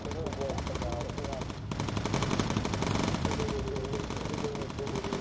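Machine guns firing in the aircraft game Bomber Crew, rapid continuous bursts of rattling gunfire with a brief pause, steady throughout under occasional background tones.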